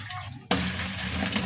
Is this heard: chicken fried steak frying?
no